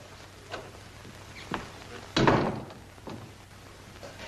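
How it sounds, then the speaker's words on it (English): A door thuds shut once, a solid close in a 1940s radio-style drama scene, preceded by a few softer taps and footsteps, with faint room noise around it. "Shut the door."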